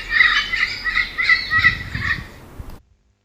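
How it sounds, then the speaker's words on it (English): A parrot squawks in a rapid series of harsh, raspy calls, loud and close, for nearly three seconds before cutting off into silence. "P is for parrot."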